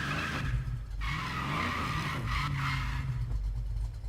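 A 1965 Ford Mustang in the racing game Need for Speed Payback, with a loud sustained engine drone and tire skidding throughout, close and continuous with no talking.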